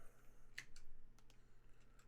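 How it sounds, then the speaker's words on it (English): Typing on a computer keyboard during a Cessna 195 flight simulation: a few faint, scattered key clicks over a steady low hum, close and quiet, no talking. "Now, I'm typing without seeing what I'm doing here"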